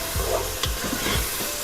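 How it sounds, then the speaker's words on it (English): A spoon stirs softening onion in a sizzling frying pan for Portuguese seafood rice. There are repeated scraping strokes with soft knocks against the pan over a constant close hiss of frying, and no talking. "I'm going to continue to stir this to get that onion nice and soft."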